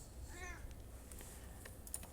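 A pet cat lets out one short, faint meow near the start, over the soft clatter of computer keyboard typing that continues throughout.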